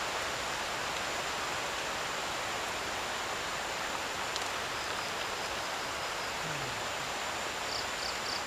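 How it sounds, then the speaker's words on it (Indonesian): Heavy rain pours down at a forest campsite near a hut, a dense, steady, even wash of drops with no breaks, loud and close throughout. "ini turun hujan lagi ya. Hujannya ini gede banget teman-teman"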